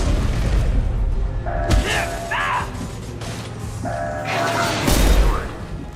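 A heavy mechanical shutter shutting down in Mass Effect 2, clanking ratcheting mechanisms and booming impacts in two bursts amid gunfire-like noise, loud and close, with game voices speaking over it.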